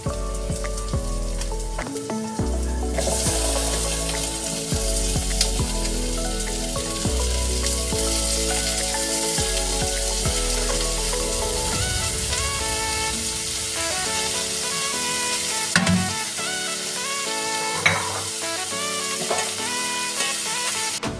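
Chayote pieces go into a hot pan for egg tinola, giving a steady sizzle with repeated stirring scrapes, all under continuous background music.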